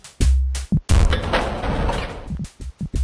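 A rocket launcher fires in an old-school shooter video game, with a heavy booming blast and rumbling explosion, loud and close, among other sharp shots.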